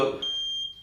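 Flame-detection CCTV camera sounding a steady high-pitched electronic alert tone, a single sustained beep that holds for most of a second, close and clear after a brief low rumble.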